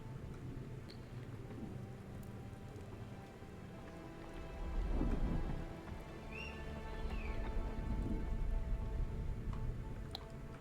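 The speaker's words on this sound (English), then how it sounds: "Just have to wait out this storm just a little bit" A storm in the survival game Dune: Awakening, with a steady wash of rain, low rumbling swells that rise and fall like distant thunder, and a few faint high chirps, quiet overall.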